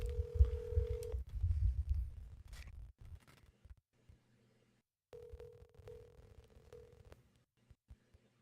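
Telephone keypad tones on a call held up to a speaker, a steady tone for about a second, then a pause, then another sustained tone with faint clicks, over muffled room noise and low background voices.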